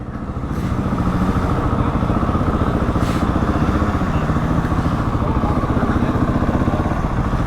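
A motorcycle engine runs steadily up close through a busy Remembrance Sunday ride, its even rumbling throb holding for several seconds with a slight rise at the start.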